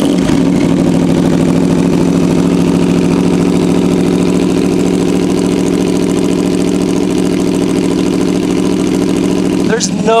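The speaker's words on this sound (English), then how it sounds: "nothing sounds like the V4 from the Aprilia" An Aprilia V4 sport bike engine running close and loud at a steady idle-like drone for the whole stretch, with a brief sharper noise near the end.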